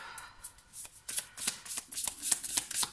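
Tarot cards are shuffled close by in a crisp, rapid series of riffling slaps and flicks that come in uneven bursts, growing busier toward the end, with no talking.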